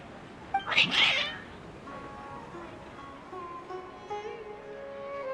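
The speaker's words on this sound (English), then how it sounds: "Your cats seem pretty worked up." Cats meow loudly in a video game, Genshin Impact, one sharp agitated yowl followed by quieter drawn-out meows, with soft background sound.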